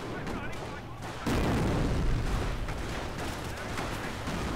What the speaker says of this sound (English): they're firing their rifles